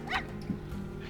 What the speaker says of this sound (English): Oh, he's having a little howl.